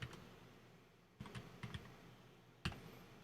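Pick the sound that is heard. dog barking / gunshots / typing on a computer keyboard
typing on a computer keyboard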